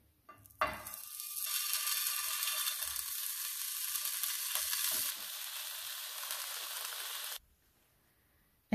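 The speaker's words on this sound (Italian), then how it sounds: "E continuo la cottura di tutte le altre zucchine." Zucchini slices cook in an oiled pan, giving a loud, steady sizzle that starts abruptly, holds for about seven seconds and then cuts off.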